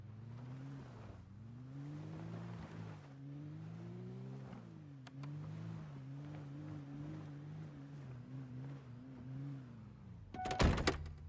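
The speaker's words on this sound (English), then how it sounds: "Oh, I always forget to turn the engine off." A car engine idles in the video game Project Zomboid, a low, steady humming drone whose pitch wavers slightly, close and fairly quiet, ending in a short loud burst of noise, with no voices.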